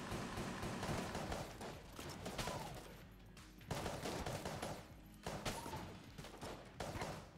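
Rapid gunfire from a weapon in the video game Enter the Gungeon, sounding in dense, loud bursts with short gaps between volleys over game background noise.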